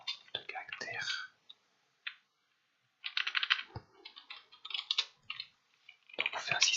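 Java code typed on a computer keyboard, with close, crisp clicking keystrokes in quick bursts separated by short pauses and a few silent gaps.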